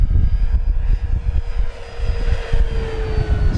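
An FMS Corsair 1700mm RC model airplane flying at full throttle, its electric motor and propeller giving a steady loud droning whine with a faint rising tone over gusty wind noise.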